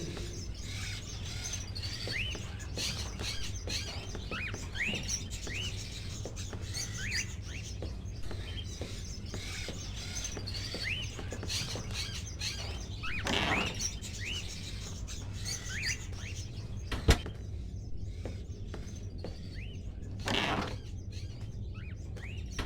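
Crows kept in cages, from the video game Fahrenheit: Indigo Prophecy, chirp and call steadily throughout over a constant low background hum, with a couple of louder bursts and one sharp click late on.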